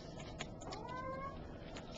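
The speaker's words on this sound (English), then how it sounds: "That cat wants out of that room." A house cat meows from inside a closed room, wanting to be let out; a single drawn-out, rising and falling cry in the middle of a brief stretch, faint and somewhat distant against quiet room tone.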